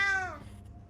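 A cartoonish video-game cat gives a single short meow, bright and close, sliding downward and fading into quiet background.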